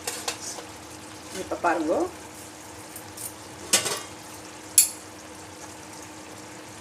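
Karonda sautés in a pan for dal, giving a soft, continuous sizzle with occasional stirring scrapes and utensil clinks while a person speaks over it.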